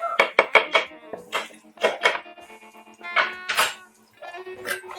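Chopped garlic cloves tipped into a pan of softening onions for arroz con pollo, giving a run of close clattering knocks and scrapes of utensil against pan in irregular bursts, with no talking.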